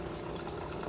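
Steady hiss of water running from a sink water line into a beverage dispenser, a continuous low-level rush with no breaks over under a second.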